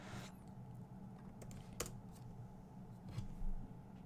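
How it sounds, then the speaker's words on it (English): Quiet computer keyboard typing while entering chat in an online Go game, with soft scattered keystroke clicks over a low hum, faint and close, with no voices. "I can type the chat here."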